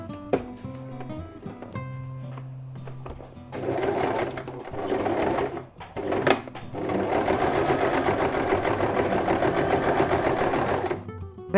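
A sewing machine stitches fabric for a reversible roll-up placemat, running in long steady bursts with a brief pause in the middle, loud and close.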